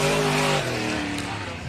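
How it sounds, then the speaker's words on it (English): A dirt-track All-Star late model race car spins out in a corner, loud engine roar and sustained tire scrubbing that fade slightly as the car slides around, with an announcer talking over it. "2 cars going for the same spot of real estate, and around goes the dominant car"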